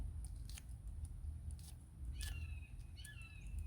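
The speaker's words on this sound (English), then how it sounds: "So this one, these kitchen shears are my best friend" Kitchen shears snip through green onions inside a campervan in a series of quick, crisp clicks, a couple of cuts coming in fast succession, faint over a low background hum with no speech.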